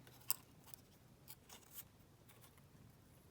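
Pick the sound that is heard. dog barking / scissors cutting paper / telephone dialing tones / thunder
scissors cutting paper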